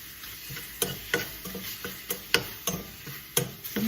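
Food being stirred through a no-oil eggplant dish in a baking dish, with a roughly steady series of scraping, clacking strokes about every third of a second, close and fairly loud, over a faint sizzle.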